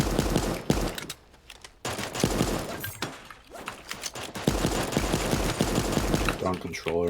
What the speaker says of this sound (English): That shotgun.